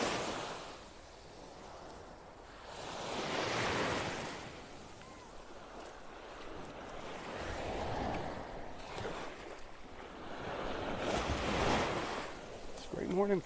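Waves washing up on Vanderbilt Beach in North Naples, Florida as the tide comes in, a steady surging wash rising and falling in slow swells, with wind noise on the microphone throughout.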